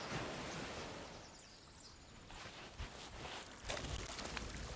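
Ocean water lapping and surging in the Sea of Thieves game, a soft, steady wash of surf with gentle swells and no talking.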